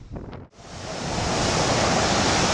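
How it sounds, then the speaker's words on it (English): Large surf, roughly fifteen-foot waves, at Goalkeeper Point on Maui, a loud continuous roar of breaking waves mixed with wind noise, after a short dip at the start. "The surf is pretty good. I'd say about 15-foot waves"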